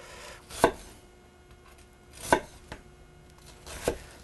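A knife chops food on a cutting board in three distinct, well-spaced sharp thuds, close and clear against quiet background.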